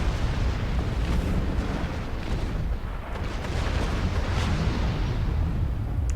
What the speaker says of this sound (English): this is all just with photon torpedoes, no phasers